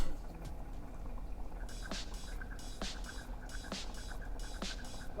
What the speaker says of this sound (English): Let that come back up to the boil